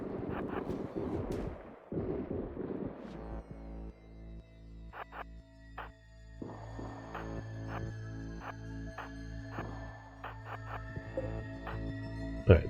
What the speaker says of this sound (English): that turret should not be firing on the rest of my crew